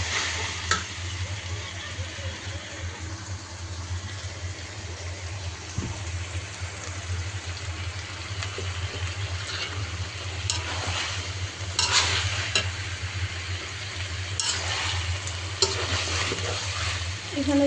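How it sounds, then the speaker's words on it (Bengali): Rohu fish heads and eggplant with onion are stir-fried in a pan, giving a soft, continuous sizzle with occasional stirring scrapes and clatters. No one speaks. "আলাদা করে ভুনা করতেছি।"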